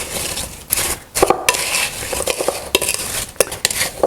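Sliced apples being tossed with brown sugar and cinnamon in a big bowl for an apple crisp, heard as a run of close clattering, scraping utensil strokes and rustles, irregular and fairly loud, with no voices.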